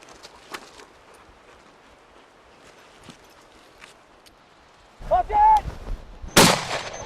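A shotgun fires at a fast-flying pheasant during a hunt, a sharp loud report near the end after quiet rustling, with voices talking just before it.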